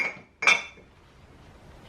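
Gifted mugs being put away in a small kitchen cupboard: one sharp ceramic clink, close and bright, followed by a short ringing tail and faint handling rustle.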